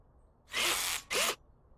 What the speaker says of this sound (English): And having this power drill makes it so much easier as well, so much quicker than the manual way.